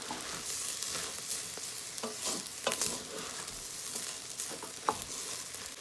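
Guyanese cassareep turkey and black-eyed peas cook-up with carrots being stirred in a pot, a continuous soft sizzle with scraping spoon strokes and occasional louder clinks, close up and without talking.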